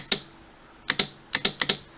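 Switch on a homemade battery-tab spot welder built on a hardwood handle clicking six times, sharp and close, one early click followed by a pause and then two pairs and a quick pair near the end, with no talking.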